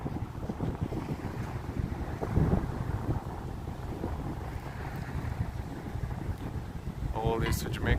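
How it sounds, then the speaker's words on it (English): Strong wind buffets the microphone at Sheepshead Bay, a steady roaring rush with gusty low rumble throughout, and a voice speaks under it. "Oh, you hear how strong the wind is."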